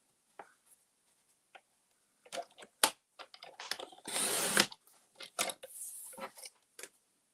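Craft paper being cut to size on a paper trimmer, with scattered faint clicks and scrapes and a loud sustained slicing rasp partway through, followed by shorter scraping strokes.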